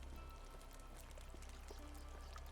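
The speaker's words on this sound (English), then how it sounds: "Where's this river that I keep hearing?" River water running steadily through a medieval video game landscape, a soft continuous wash with faint trickles and splashes throughout.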